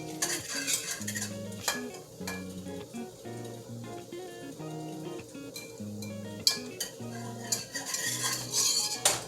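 A spoon scrapes and clinks around a pot of peach cobbler mixture with sugar, cinnamon and nutmeg, in steady repeated stirring strokes over a faint background hum. No one speaks.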